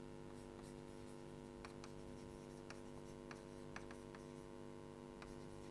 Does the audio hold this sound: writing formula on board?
yes